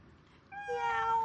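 A cat gives a single drawn-out meow that rises in strength and holds its tone, clear and close against a quiet background.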